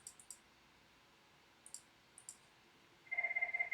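A Cisco IP desk phone on a CUCM extension rings with a steady repeating electronic trill that starts near the end. It comes after a few soft scattered clicks in a quiet room.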